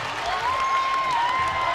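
A high school basketball crowd roars and applauds in a gym after an alley-oop, a steady loud wash of cheering with a whistle-like tone running through it.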